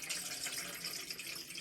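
Faint, steady hiss of water pouring from a Brita filter into a vintage Toastess electric kettle, a soft continuous stream heard up close and alone.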